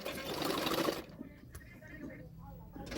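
A sewing machine stitches blouse fabric in a fast, whirring run for about a second, then slows to quieter intermittent mechanical ticking, close and moderately loud.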